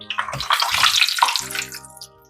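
Hot oil crackling and sputtering steadily while Oreo cookies deep fry, wet hands adding to the spatter, a dense hissing sizzle that fades toward the end.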